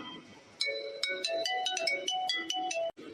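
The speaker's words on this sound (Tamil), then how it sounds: "என்ன ஃபோன் ரிங் போயிட்டே இருக்கு" A phone ringtone plays a bright, repeating electronic melody for about two seconds, loud and close with no talking, then cuts off abruptly.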